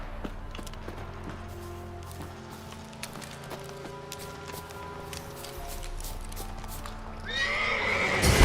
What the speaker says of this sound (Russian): черный конь.